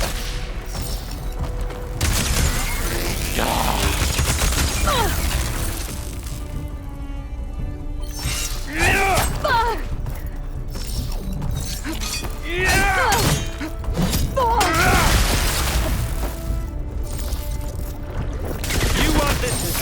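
Gunfire in the video game Horizon Forbidden West, dense bursts of shattering shots and booms that come and go in waves, with voices speaking in between.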